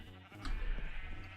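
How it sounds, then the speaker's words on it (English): A sheep bleats in modded Minecraft, one faint short bleat under soft background hum, with no talk. "I should have a sheep wandering around out here that I need to color"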